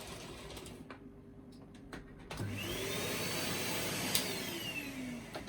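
A Numatic Henry Compact HVR160 vacuum cleaner starts up after a few quiet clicks. Its motor rises into a loud, steady whine and holds there.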